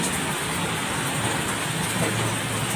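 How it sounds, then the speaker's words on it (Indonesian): Steady rain falls in a broad, even hiss throughout, loud and close with no pauses and no talking. "kalau agak ribut karena di sini lagi hujan ya"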